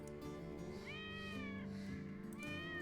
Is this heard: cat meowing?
yes